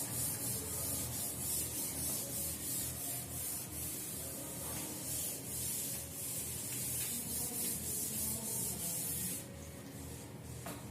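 A teacher rubs writing off a board, a steady broad scraping and rubbing that runs continuously at close range, with no talk over it.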